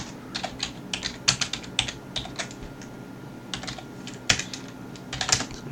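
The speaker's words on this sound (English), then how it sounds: "I type ls" Terminal commands are typed on a computer keyboard in irregular bursts of crisp, close key clicks, with brief pauses between words and a few louder strikes, with no talk.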